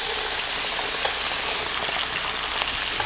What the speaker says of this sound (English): once we see that all of the wine is bubbling